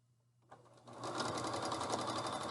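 A sewing machine hems a folded quarter-inch edge on a twin bed sheet. After a quiet start it runs up to a steady, close, rapid mechanical whir and chatter and keeps going without a pause.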